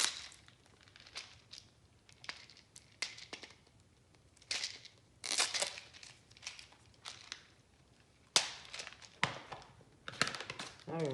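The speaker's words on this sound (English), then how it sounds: "So let's remove this tape and take a look at this product." Tape is peeled off a bead kit package in a series of close crackling rips and crinkles, with bursts of tearing separated by short pauses.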